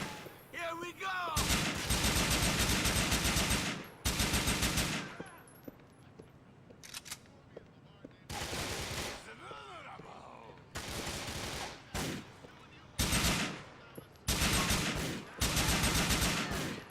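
Gunfire in Grand Theft Auto IV arrives as several loud bursts of rapid shots, each lasting about a second or two, separated by quieter gaps of ambient noise.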